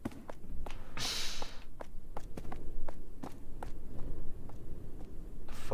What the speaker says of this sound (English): Oh, it's my own footstep.